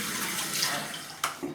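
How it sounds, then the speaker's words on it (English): Cold tap water runs steadily as a stainless steel safety razor is rinsed, a close, continuous splashing hiss with a brief louder splash near the end. "Rinsing with cold water from Scotland."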